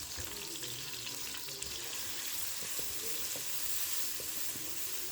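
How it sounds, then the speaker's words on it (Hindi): Chicken tikka frying in its own juices in a covered pan: a steady, dense sizzle and crackle with occasional louder pops, close and continuous without voices. "बस इसी में ये टिक्का फ्राई होगा।"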